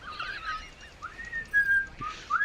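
A person whistles a short tune, with a few sliding, fairly faint notes over a quiet background.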